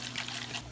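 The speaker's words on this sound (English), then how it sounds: "we are going to pour in about 2 cups of red wine" Red wine, about two cups, is poured into sautéing vegetables, giving a brief, steady splashing trickle.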